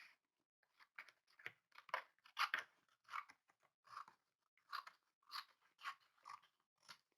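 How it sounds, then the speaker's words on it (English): A paper map is cut by hand, its end trimmed off in a quick run of crisp, close snips and crunches, about a dozen uneven bursts with short gaps of quiet between them. "I'm just cutting the end of that map off."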